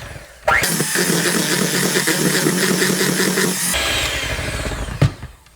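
An electric mixer runs loud and steady, blending eggs into cheesecake batter. It starts abruptly, whirs with a rhythmic churning texture for about three seconds, eases slightly, then ends with a bump and clatter.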